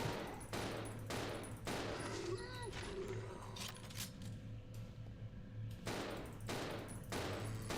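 Bursts of gunfire in the Resident Evil 0 video game, several heavy repeated shots in quick volleys with gaps between, loud and close, with shell-like clinks and a voice speaking faintly at times.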